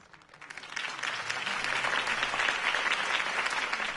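A crowd bursts into applause at a political campaign rally in Batman: The Telltale Series, starting faintly, then swelling into steady, dense clapping that holds to the end.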